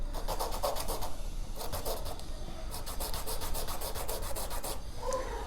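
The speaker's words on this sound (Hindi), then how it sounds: "जब ये स्टम्प्स इस तरीके से जब गंदे हो जाते हैं तो आप इसको ऐसे इस सैंड पेपर पे इस तरीके से" A paper blending stump is rubbed back and forth on sandpaper to clean it, making a rhythmic series of close, gritty scraping strokes that repeat steadily with short pauses between bursts.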